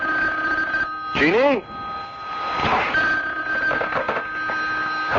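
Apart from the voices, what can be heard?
telephone ringing in radio drama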